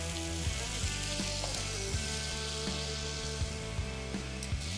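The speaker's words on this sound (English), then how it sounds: "we're going to throw our in-house made garlic butter in with the salmon" King salmon fillet frying with garlic butter in a hot pan, giving a steady close sizzle with small crackling pops throughout and no talk.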